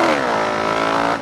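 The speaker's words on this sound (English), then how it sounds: "let's see if I can do a 4th gear wheelie" A motorcycle accelerates hard in fourth gear during a wheelie attempt, a loud, close, rising engine whine held for about a second before cutting off sharply.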